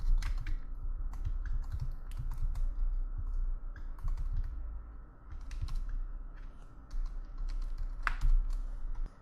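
Rapid clicking of a computer keyboard as code is typed, bursts of keystrokes with short pauses, close and steady, no voice.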